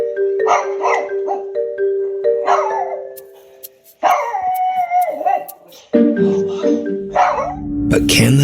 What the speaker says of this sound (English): a woman introduces her new doll to her cute little pug named Augie.